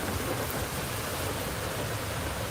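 Steady, dense rain hiss from California news footage, a broad even wash of downpour that holds at one level without pause, with no voices over it.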